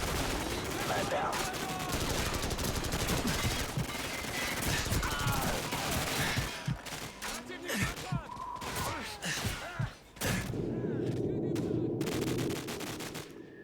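Sustained Call of Duty 4 campaign firefight: rapid automatic gunfire and scattered shots laying down covering fire, loud and busy at first, then thinning into sparser bursts, with speech mixed in.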